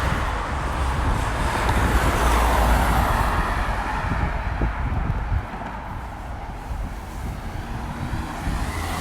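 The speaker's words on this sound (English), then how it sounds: "the trucks are pretty much on here all the time. It's a busy road." Steady roar of trucks and traffic on a busy road in Poland, a continuous close rumble with passing vehicles swelling and fading, no talking.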